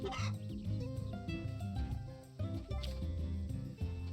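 A chicken in the farming video game Story of Seasons: A Wonderful Life clucks repeatedly in short bursts over a steady game music backdrop.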